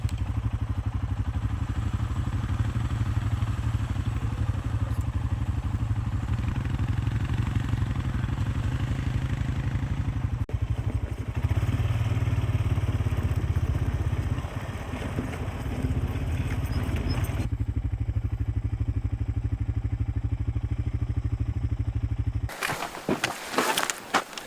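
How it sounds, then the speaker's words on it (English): Four-wheeler ATV engine running steadily while riding over a very rocky road, a continuous close mid-pitched drone with rattling clatter throughout, cutting off abruptly near the end. "Just got done riding four-wheelers for 20 plus miles."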